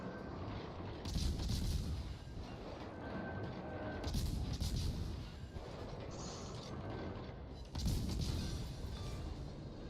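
Naval gunfire in World of Warships: Legends, three loud salvo blasts spaced roughly three seconds apart over a constant rumbling battle background, without talk.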